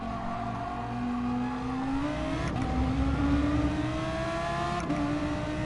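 Ford GT engine in Gran Turismo Sport held at high revs without an upshift, a steady strained whine with harmonics slowly climbing in pitch, two brief dips around the bouncing limiter, loud and continuous with no talk.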